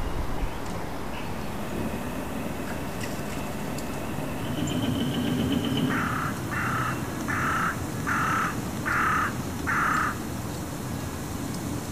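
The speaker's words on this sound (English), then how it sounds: "Is it just me, or did that crow have a very low voice?" A crow gives a run of six deep, low-pitched caws at an even pace, loud and fairly close, over a steady outdoor background hum.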